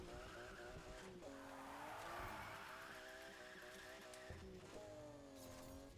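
Tires squealing through long drifts in Need for Speed Heat, with a revving engine under a sustained skid that wavers in pitch, breaks off briefly and then resumes.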